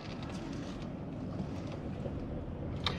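A car driving along a road toward the interstate on the way to El Morro in northern New Mexico, with a steady, loud rumble of road and wind noise and no one talking.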